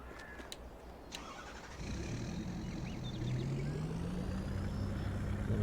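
A truck engine in Farming Simulator 22 starts up after a few clicks, then settles into a steady idle hum that rises gradually as it revs, close and continuous.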